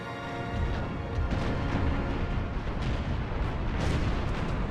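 Heavy cannon fire rakes a galleon in a naval battle in Empire: Total War, a dense, continuous roar of overlapping booms and blasts, loud and sustained throughout with no talk.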